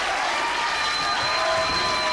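Wrestling crowd at an indoor event roars for Jessicka Havok after a double chokeslam, a dense, sustained wall of cheering and applause that holds steady at full volume throughout.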